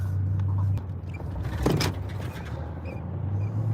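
A car rides through snowy streets in Newport with a low, steady engine rumble heard from inside the cabin, and a brief scraping swell midway through.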